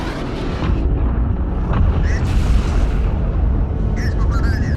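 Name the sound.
spaceship exploding under jet attack, from a movie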